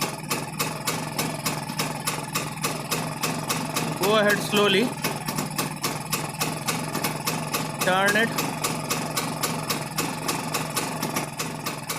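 A Rajdoot 175 motorcycle engine idles steadily and close by during carburetor tuning. The putter is rapid and even, with two brief rises in RPM, and someone speaks over it.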